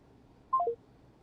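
Phone keypad tones play as a number is dialed, three quick descending beeps close together, clear and alone.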